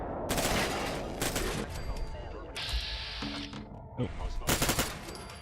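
Bursts of automatic gunfire as turrets are wrecked in Fallout 4, loud and clustered with short gaps, mixed with game effects and a brief spoken exclamation.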